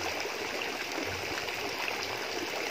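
Green-tinted water pours steadily into a catfish pond, a continuous broadband splashing rush with no pauses, close and fairly loud, with no voices over it.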